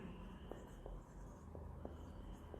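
Pen or marker strokes writing out an equation in a Bengali lesson on straight lines, a few short scratchy strokes spread over a steady hum of room noise.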